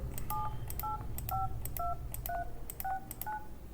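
A phone number is keyed in on an emulated Google Pixel phone, eight short evenly spaced dial-tone beeps over a low steady hum, with no speech.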